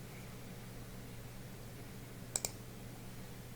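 A computer mouse gives two quick, sharp clicks close together, close by and clear over a low steady hum. Apart from the clicks the room is quiet.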